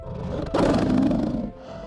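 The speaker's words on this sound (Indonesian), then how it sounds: "Suara auman terdengar, kali ini jauh lebih besar." A huge Sumatran tiger roars close and loud, a deep rumbling growl that swells abruptly and rolls on for about a second before fading into a low murmur.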